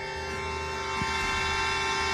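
Truck horns blare nonstop at a truckers' roadblock protest on a highway near San Pedro, one steady, loud, sustained tone with no breaks and no talking.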